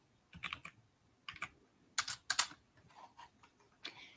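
Rapid bursts of typing on a computer keyboard while entering code, with irregular clusters of key clacks and short pauses, close and fairly quiet, no voices.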